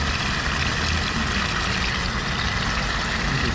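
Water rushes continuously through a clogged car engine cooling system being flushed of sludge, a loud, dense, steady gushing with no pauses and no voices.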